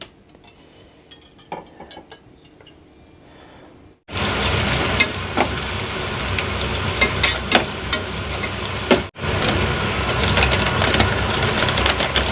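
Arroz caldo cooks in a pan in a home kitchen in Japan. After a quiet stretch, a loud, dense sizzle suddenly starts, cuts out for a moment, then resumes just as strongly.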